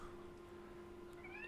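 A cat gives a single drawn-out meow, faint and steady, over a quiet background.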